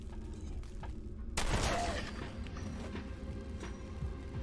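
A single muffled blast from a stealth shotgun in the video game Fallout 4, followed by a brief ringing tail and low game ambience.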